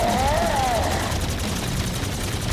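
Gunfire in the video game Infinite Warfare Zombies during a boss fight, a dense burst of shots blurred into a continuous rattling roar, with a brief whistling tone near the start.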